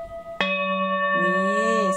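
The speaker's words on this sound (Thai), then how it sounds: "นี่เสียงนี้เป็นเสียงเรชาร์ปค่ะ10นิ้วเรชาร์ป" A 10-inch full moon singing bowl tuned to D sharp is struck once and rings with a bright, long-sustained shimmering tone. A second wavering overtone swells in partway through while the note keeps ringing alone.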